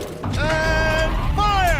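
A tank turret rotates in Horizon Zero Dawn, giving a steady mechanical grinding with rising and falling tonal whines that runs throughout, loud and close over the game's background noise.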